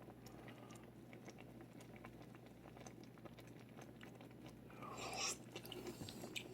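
Soft, wet chewing and faint crunching from someone tasting white bean and chicken soup, quiet and close against a low hum, with a louder spoon or mouth sound near the end.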